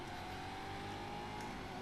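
An Aston Martin race car in Race Driver GRID, already scraped up from an earlier corner incident, keeps up a steady, loud engine drone with a constant tone throughout, and nobody talks over it.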